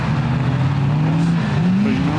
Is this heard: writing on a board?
no